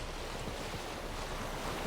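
A boat crosses a lake in The Witcher 3: Wild Hunt, a steady, even wash of water and wind-like rushing that holds for the whole moment with no voices.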